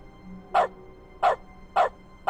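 A dog in Dog mode of the video game The Stanley Parable barks three times at an even, unhurried pace, each bark short and moderately loud over a quiet background.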